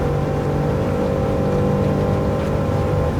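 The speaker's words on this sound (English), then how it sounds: "That big, big nasty 8-litre W12 engine" Bugatti Veyron 16.4 from 2013, its 8-litre W16 engine, racing at La Sarthe in a PS5 racing game: a steady, loud, droning engine note holding constant without breaks.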